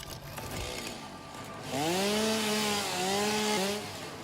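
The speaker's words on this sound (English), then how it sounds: "Just don't even have to move the chainsaw" A chainsaw in the video game Satisfactory revs up after a quieter rumbling start, holding a loud, buzzing whine with slight pitch dips as it cuts, then cutting off near the end.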